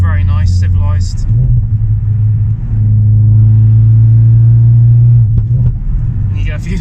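A Ford Focus RS Mk3 with a Simpson race exhaust drones loudly with a deep, steady engine note that rises and settles, with a few pops near the end and someone talking briefly at the start and finish.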